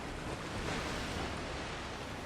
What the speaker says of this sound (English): The water's filling up.